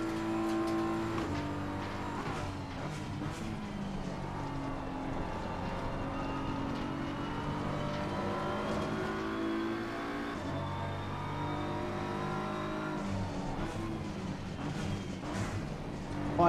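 GR3 race cars in Assetto Corsa Competizione howl continuously with layered engine tones rising and falling through gear changes, close and steady, with faint speech underneath at times.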